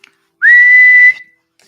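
A single sustained whistled note lasting under a second, rising briefly at the start and then holding steady, loud and close, made by a person imitating a video game character's whistle, with no talk.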